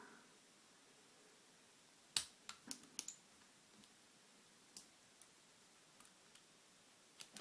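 Metal circlip squashed back onto a half euro lock cylinder with wire cutters: a scattered run of sharp, close clicks and snaps, loudest at the start, then sparser light ticks over a quiet background.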